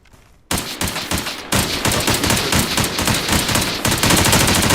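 Sustained machine gun fire in a tactical shooter video game, loud and continuous rapid bursts rattling from several guns at once, broken only by a short pause near the start.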